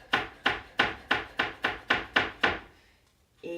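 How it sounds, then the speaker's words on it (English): A knife minces a fresh garlic clove on a cutting board in nine quick, evenly spaced chops, crisp and close, followed by a short pause and a faint clatter at the end. "I've got a clove of garlic for my kale. I'm going to mince that guy up."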